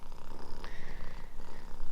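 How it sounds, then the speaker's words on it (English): A small, snuggly cat purring up close at a campsite in Lincoln National Park, a continuous low rhythmic rumble with steady pulsing breaths and no talk. "The purring is like next level."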